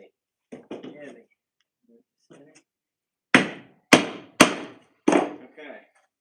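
Tacks hammered down during a kitchen build: four loud, sharp metallic strikes close by in quick succession, preceded by a few quieter knocks and handling clatter, with a brief low voice.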